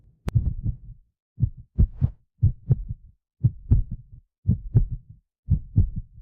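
A heartbeat thumps in regular double beats, about eight clear lub-dub pairs spaced evenly, loud and close against silence.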